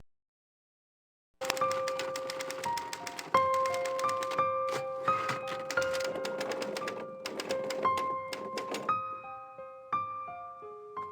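Typewriter keys clacking in the video game Gabriel Knight II, a steady run of close mechanical strikes with ringing tonal chimes layered throughout, starting after a brief silence and continuing without talk.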